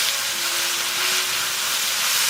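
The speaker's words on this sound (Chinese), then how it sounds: "再翻炒一下。" Hakka pickled greens are stir-fried with salt, soy sauce and sugar, giving a loud, steady, close sizzling hiss that carries on without a break and with no talking.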